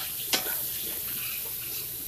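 Vegetables and garlic stirred in a hot pan, a steady sizzle with a single sharp utensil tap near the start and continuous frying hiss after.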